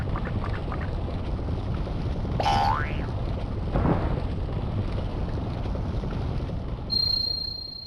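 A springy cartoon boing effect from the video game Paper Mario rings out once as a wobbling twang over a steady rushing background, followed by a fainter sliding tone.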